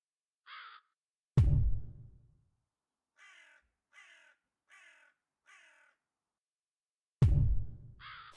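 A crow caws from the Yaga video game: a single harsh call, then a loud thump, four evenly spaced caws, and another call with a heavy thud, all set against silence.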